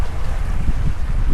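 A sailboat under a full moon in the mid-Atlantic, heading to St Helena before dawn, makes a steady roar of wind and rushing water close to the microphone, with gusty buffeting and no voices.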